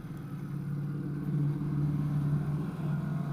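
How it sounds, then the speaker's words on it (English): The engine of a highly tuned Toyota Supra rumbles behind on an island road, a low steady drone at moderate distance that swells slightly midway. "Very highly tuned Toyota Supra on the island. And that's behind us."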